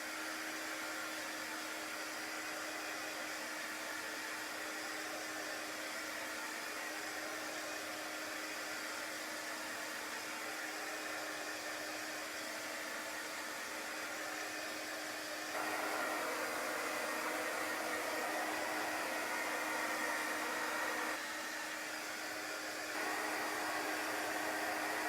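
A hair dryer blows steadily on a chalk-paste door tag with a constant loud whooshing hum, nearby and unbroken, its airflow shifting slightly in pitch and level partway through as it is moved.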